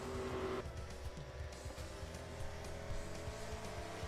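An ARCA stock car in a racing video game runs at Pikes Peak International Raceway. A sustained engine drone rumbles steadily up close, with a brief higher tone at the start and no voices.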